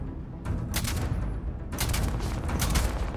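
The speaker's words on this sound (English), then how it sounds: "I feel like your machine guns would not be hitting me from that distance" Bursts of automatic machine gun fire in Starfield, a low-gravity space shooter, with one burst early and a longer sustained volley later, loud and dense, with no talking.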